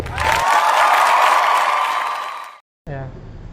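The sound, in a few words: audience applause during podcast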